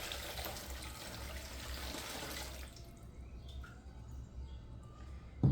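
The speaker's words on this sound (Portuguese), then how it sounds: "aqui eu vou botar água fresca" Fresh water is poured into a basin, a steady splashing gush for the first half that then cuts off, leaving faint drips and quiet room sound.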